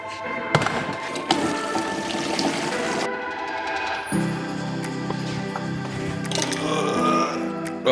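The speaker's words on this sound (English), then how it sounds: "there's only a little bit of water being allowed in, which means the flow rate should be lower" Water running from a hose into a bucket, a steady splashing gush that shifts to a lower, fuller pour partway through as the flow changes, heard up close with handling noises around it.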